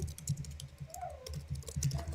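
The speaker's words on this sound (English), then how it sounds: "I am typing notes at the same time as well because I have stuff to do for work." Rapid, uneven clicking of a computer keyboard being typed on at a desk, steady and close throughout, with a faint tonal sound drifting in the background.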